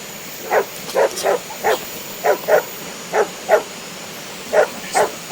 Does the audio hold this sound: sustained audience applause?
no